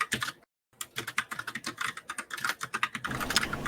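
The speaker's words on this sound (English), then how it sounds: "Furious typing." Fast, furious clattering on a computer keyboard: dense, rapid keystrokes close up after a brief silent break near the start, continuing at a frantic pace to the end.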